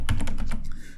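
Rapid typing on a computer keyboard, about eight crisp key clicks in quick succession with a short pause before the last few, close and clear with no speech.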